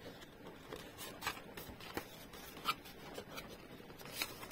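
A handmade paper card for scrapbooking is folded and creased by hand, giving faint soft rustles and scraping rubs close by in a quiet room.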